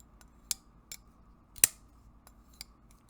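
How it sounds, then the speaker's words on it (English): A Ferum Forge Drop Mordax aluminum folding knife snaps open with one sharp, loud thwack and a bright ringing tail, set among several softer clicks and ticks of the mechanism, close and quiet otherwise. "So it's got a authoritative thwack when it opens, and kind of a little bit of a high frequency resonance from the aluminum."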